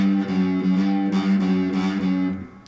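A guitar note fretted directly on the metal fret bar, with a buzzy, slightly warbling tone, repeatedly wavering between two notes as it rings for a couple of seconds.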